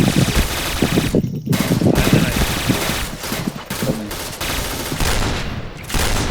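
Rapid bursts of automatic gunfire rattle loudly and continuously, broken by a few short pauses, with game-like shots stacking close together.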